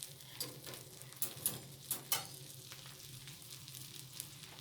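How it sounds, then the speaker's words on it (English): A pork patty frying in a pan gives a quiet, continuous sizzle, broken by a few sharp clicks and taps near the middle. "I'm using a pork patty, so it's going to take a little bit longer to cook"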